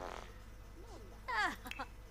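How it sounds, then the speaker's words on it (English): A Sims video game character lets out a short, cartoonish fart amid game sound effects and a voice, with a few squeaky tonal blips close together. "she's farting because I've got all these slobs in the house"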